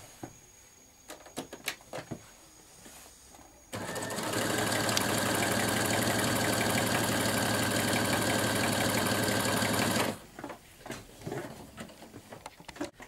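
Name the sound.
sewing machine sewing a zigzag stitch around a dress hem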